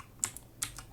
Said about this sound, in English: Sorry, I keep clicking things.